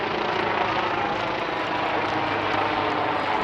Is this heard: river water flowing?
no